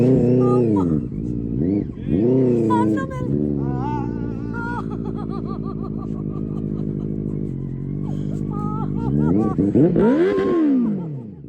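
A superbike engine revs hard at close range, its pitch rising and falling in repeated loud surges that hold steady for a while and then climb again near the end, with voices and laughter mixed in.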